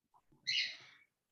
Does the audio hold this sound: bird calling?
yes